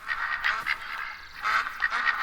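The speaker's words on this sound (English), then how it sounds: "I hear a lot of ducks off in this direction" Ducks quack repeatedly in the hunting game theHunter: Call of the Wild, with a steady run of nasal calls in loose clusters that sound close and moderately loud.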